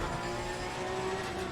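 A Porsche Cup race car engine in Assetto Corsa Competizione drones steadily at sustained revs, a continuous loud mechanical whine with no pauses and no talking.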